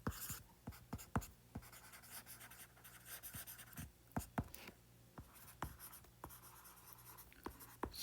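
Chalk or marker scratches across a board in quick, irregular strokes and taps, close and clear against a faint room hum, during an electrostatics physics lesson.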